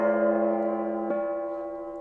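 A shaman's gong rings out as a sustained metallic tone with layered overtones, slowly decaying, then is struck again just past the midpoint with a sharp attack and fresh ring, close and without talk.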